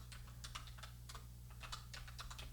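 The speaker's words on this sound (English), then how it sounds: "What am I really typing?" Fingers tap quietly on a computer keyboard in an irregular stream of soft, closely spaced keystrokes, faint against a low steady hum in a quiet room.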